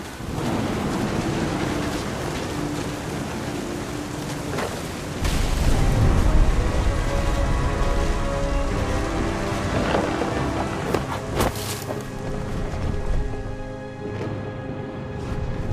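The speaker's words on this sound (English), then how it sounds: "The thunder sounded much too close and full of angry power." Heavy rain and rolling thunder from a stormy scene in the video game What Remains of Edith Finch. A loud, dense downpour hiss is broken by deep rumbling surges, with no one speaking.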